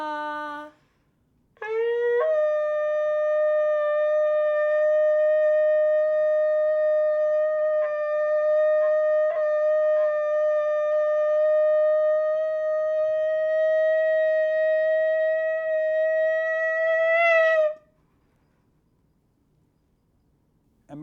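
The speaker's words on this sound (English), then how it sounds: "the sounds of the shofar we just heard" A shofar sounds the Tekiah Gedolah at a Rosh Hashanah service: a short call, then one long sustained blast held steady for about fifteen seconds, rising at the end before stopping, clear and close.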